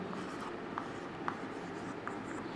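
Marker or chalk writing on a board during a chemistry lesson, a soft continuous scratchy stroke sound with a few brief louder taps, steady and close against a quiet room hiss.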